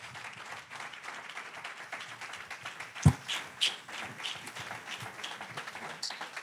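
A church congregation applauds and cheers, a dense, moderately faint wash of clapping with a sharp thump partway through.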